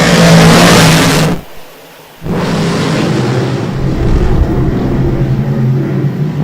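Race cars accelerate at a green-flag start on an oval racing circuit, a loud, close engine roar that drops out briefly, then surges back into a sustained, building howl of several cars.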